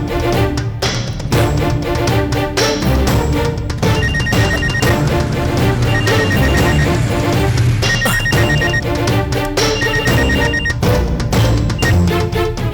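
A mobile phone rings with a loud, steady repeating ringtone melody that fills the whole stretch without pause, no talking over it.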